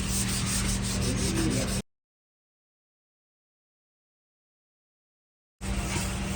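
Rough abrasive rubbing from 600-grit sandpaper worked over a Ford Endeavour's body panel, a dense continuous scrape that cuts off into silence for several seconds before resuming.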